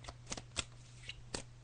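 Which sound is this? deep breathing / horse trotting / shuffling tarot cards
shuffling tarot cards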